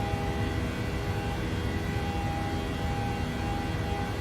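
A PMDG 737-800 jet departing in Microsoft Flight Simulator gives a steady, loud engine roar with a broad rumble and a thin whine held throughout, no pauses or voices.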